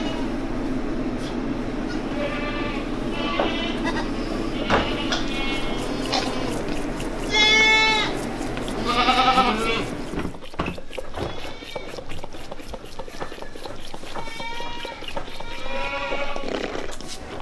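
Goats on a small farm bleat repeatedly in wavering cries, several loud and close, over steady background noise, with brief spoken words in between.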